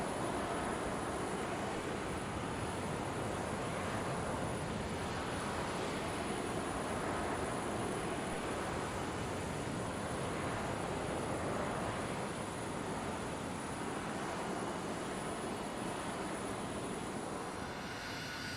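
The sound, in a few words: jet aircraft engine flying, from a video game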